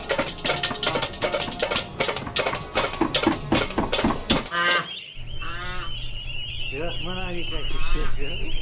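A mother goose and her goslings honk and call close by after a stretch of busy rhythmic clatter, their nasal cries repeating over a steady low hum.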